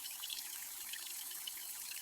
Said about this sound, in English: I take a shower.